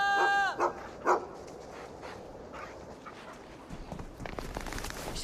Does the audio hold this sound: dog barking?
yes